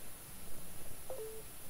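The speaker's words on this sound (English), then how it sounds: "That's a notification." A brief two-tone phone notification chime sounds once over steady background hiss during a SpaceX CRS-7 launch stream, fairly faint and short.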